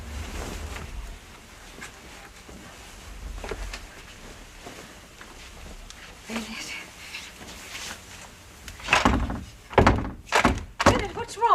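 Someone struggles with a stuck door, giving a run of heavy thunks and rattling knocks that grow louder and sharper toward the end, over a low rumbling background with voices nearby.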